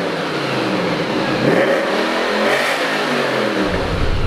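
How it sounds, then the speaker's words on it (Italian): Lancia Thema 8.32 with its Ferrari V8, engine revving loud and close, the pitch climbing and falling in rough sweeps with a coarse, throaty tone. "Ha un rumore molto più muscoloso e rozzo come i V8 americani."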